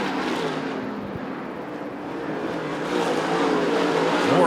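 SWDRA late model race cars coming off turn four at Arizona Speedway during a heat race: a steady loud engine roar that swells toward the end as the cars approach and accelerate.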